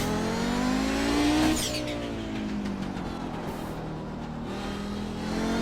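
Audi GTO race car in the iRacing sim at Summit Point, engine howling steadily with rising revs, then a sharp lift and downshift before the loud drone builds again, no talk.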